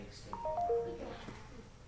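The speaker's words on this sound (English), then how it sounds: "Oh, sorry, we have a notification" A phone notification chime for an incoming work email, a short sequence of faint electronic tones rising then falling, heard quietly behind a murmur of voices in the room.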